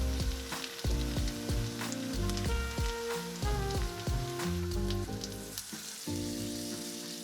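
Mini potato pizzas topped with white cheddar and grated parmesan sizzle steadily in a frying pan, a constant hiss of frying beneath louder plucked background music.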